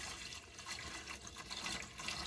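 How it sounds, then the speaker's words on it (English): Regular whole milk poured into homemade mac and cheese, a short continuous liquid splash and gurgle, close, with no talking. "now I'm gonna add my milk"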